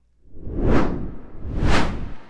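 Two loud cinematic whooshes sweep past in quick succession, each rising and falling in a broad airy rush, alone with no talk.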